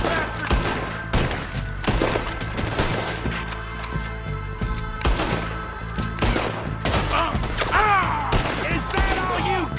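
Rapid gunfire in the Red Dead Redemption 2 shootout, dense volleys of loud overlapping shots and thuds over a continuous music bed, with shouting voices mixed in.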